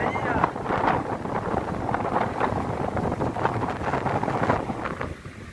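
Coastal wind gusts across the beach at Guaibi in Valença, Bahia, a rough, buffeting roar pressing on the microphone with uneven surges throughout before easing slightly at the end.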